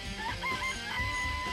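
Chickens in a chicken coop in the video game Danganronpa, close clucking and short crowing calls layered over a steady background drone.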